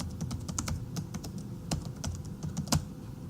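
Keys clatter on a computer keyboard in quick, uneven bursts, close and clear against a quiet background with no voices.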